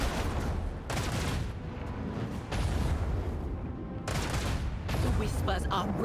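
Rapid blaster fire and heavy torpedo blasts fill a space battle in the video game Warhammer 40,000: Rogue Trader, coming in loud dense bursts that break off briefly between volleys.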